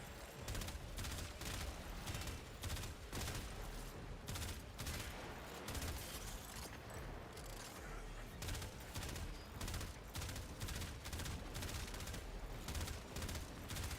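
A rifle in Warframe fires in quick repeated bursts for the whole stretch, a dense rhythmic crackle of shots with short gaps, heard alone without talk.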